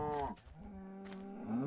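A single cow moos in the video game Minecraft, a loud close bovine call lasting under two seconds with a short break midway, no talking.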